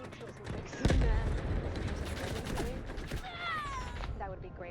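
Gunfire in the game Delta Force bursts in rapid volleys, a heavy close shot followed by scattered rattling fire and whizzing sounds, with a voice talking over it.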